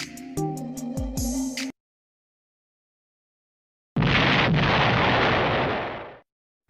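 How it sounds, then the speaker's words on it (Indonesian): An atomic bomb explosion sound effect follows a short burst of tonal beeps and a pause. It bursts as a loud, deep roaring blast that rumbles for about two seconds before fading out. "Bom atom yang dijatuhkan sekutu di Hiroshima pada tanggal 6 Agustus 1945 makin menyudutkan Jepang dalam perang."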